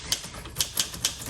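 A 1946 Smith Corona Silent typewriter clacks through several sharp keystrikes in an uneven rhythm, close and crisp over a light background hiss.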